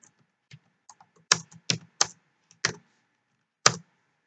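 Keys clacking on a computer keyboard while CSS code is typed: scattered sharp clicks with a few louder strokes in short irregular bursts, close and alone.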